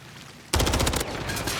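A sudden close burst of rapid automatic gunfire erupts in a Call of Duty match, a dense rattling volley lasting about half a second and then trailing into a loud, sustained roar.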